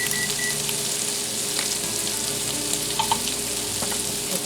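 Sausage sizzles and spits in a giant skillet, a dense steady frying hiss up close, with a few faint clinks and no voices.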